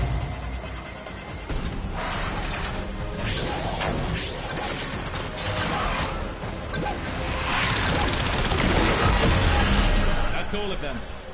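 Weapon gunfire hits in the video game Warframe land as repeated smashing, cracking impacts with whooshes in a dense, busy mix, while a person talks over the action.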